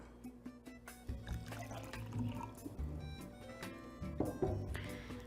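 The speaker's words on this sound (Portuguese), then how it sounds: "e em seguida a gente adiciona a água" Water is poured into a cup holding a little soil, giving a steady liquid trickle with faint dripping over a low background hum.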